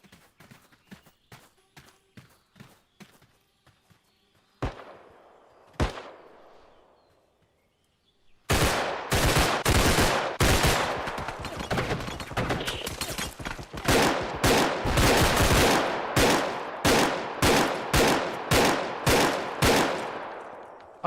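Gunfire in the video game BodyCam: a few scattered single shots and sliding sounds at first, then long, loud bursts of rapid automatic fire broken by short pauses.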